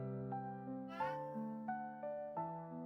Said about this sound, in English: Is this a cat or a cat spirit? I think this is a cat.